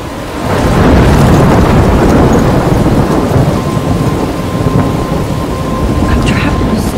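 A loud thunderstorm rumbles in the video game Life Is Strange, with heavy steady rain and deep rolling thunder that swells early and holds throughout.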